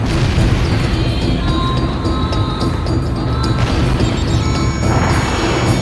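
Missile striking a target in Ace Combat: Joint Assault, a loud crashing explosion over a dense roaring rumble of jet noise, with ringing tones and debris crackle continuing throughout.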